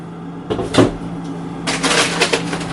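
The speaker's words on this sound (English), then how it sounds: "So I'm going to put this in the freezer." Freezer door swung open and shut in a home kitchen, a soft thud and a clunk followed by a rustle of handling, close by and moderately loud.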